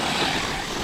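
A Carson Dirt Attack RC car on an 8000mAh 80C battery pack screams at full throttle on a cold 5°C morning, a loud, dense, high-pitched motor whine close by lasting under a second.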